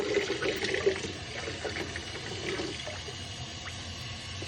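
Water rushes and trickles while filling a DIY hot water loop on a steam boiler, a steady close hiss of flow with gurgling, fairly faint and without talk.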